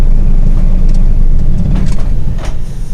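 A simulated heavy truck engine in Euro Truck Simulator idles with a steady low rumble that loosens and fades toward the end as it shuts off; no talking.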